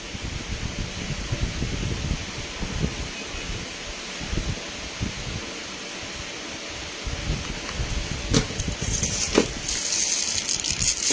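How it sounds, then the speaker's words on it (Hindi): An electric fan and an air cooler run together indoors, making a steady broadband whoosh with light rattling, continuous throughout and no speech. "पंखा चल रहा है जी हमारा ना, कूलर चल रहा है।"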